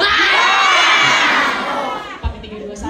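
A crowd of children and adults shouts together on one long exhale, a loud, broad, sustained yell that fades over about two seconds, with a short thump near the end.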